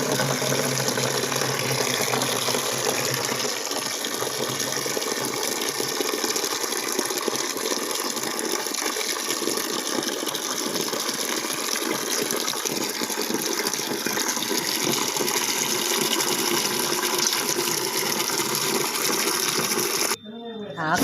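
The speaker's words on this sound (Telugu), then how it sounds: "ఆకుకూర శుభ్రంగా కడగాలండి" Leafy greens (thotakura, amaranth leaves) are washed in water at a sink, with a steady, close gush of running tap water lasting the whole stretch before it stops abruptly.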